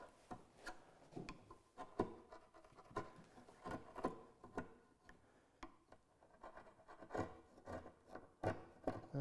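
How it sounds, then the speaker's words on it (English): A chisel and file pare the shoulder line of a hand-cut wooden dovetail joint, giving a quiet run of short rasping strokes and scrapes at an uneven rhythm, close up and with no talking. "Just tease that file in between, choke up on your chisel so you don't overshoot, and clean up that shoulder line"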